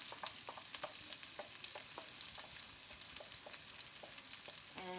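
A garlic mixture fries in hot oil with a steady, crackling sizzle and scattered sharp pops, and a stirring scrape is heard near the end.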